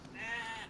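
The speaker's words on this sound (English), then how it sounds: "Sheep." A sheep bleats once in the survival video game DayZ, a short, clear, wavering call heard up close with no other sound around it.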